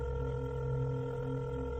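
A steady telephone dial tone holds at an even level as a girl calls her dad, with no other sounds.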